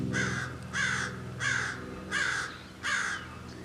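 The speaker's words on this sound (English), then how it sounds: "Sorry, getting really sidetracked by that crow." A crow caws in four or five loud, harsh bursts spaced about half a second apart, near and clear over a low, steady background hum.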